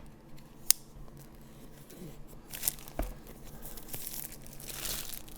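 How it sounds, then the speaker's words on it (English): A blade cuts through a sticker on a DJI Osmo Action 5 Pro box during unboxing, with faint snips and a sharp click, then quiet crinkling and rustling of packaging up close. "And I already cut through that sticker."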